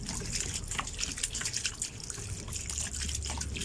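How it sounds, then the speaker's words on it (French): Water flowing down a borehole during manual water drilling, a steady splashing trickle with drips and gurgles, close and continuous without speech. "J'ai mis un peu plus de débit d'eau là."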